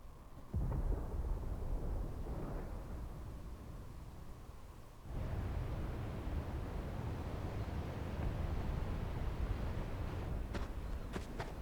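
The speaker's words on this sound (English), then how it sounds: "Sounds like thunder." Thunder rolls through a stormy scene in the video game Final Fantasy XVI, a long, low rumbling that swells in two waves with a sharp renewed boom midway, heard alone without speech.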